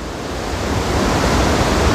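Floodwater rushing at Wawa Dam after Typhoon Ulysses, a loud, steady broadband roar of churning water over large rocks, building slightly and heard alone.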